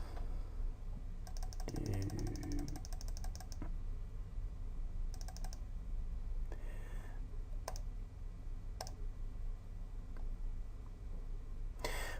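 Short runs of clicking keystrokes on a computer keyboard while a system name and password are entered during a Windows setup, separated by pauses and a few isolated clicks, close over a steady background hum.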